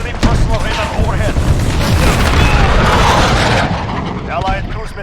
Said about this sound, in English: Enemy cruise missile, take cover.